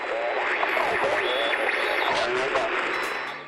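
Radio in the video game Fortnite giving off Morse-code-like tonal beeps amid static and garbled, warbling noise, a short steady transmission at moderate level.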